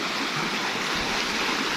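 Water diverted from a river rushes steadily through a canal, a loud, close, continuous broadband gush like a small waterfall, with no voices.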